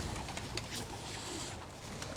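A racing pigeon coos softly in a breeder's loft, a faint, low murmuring call repeated a few times against quiet background noise.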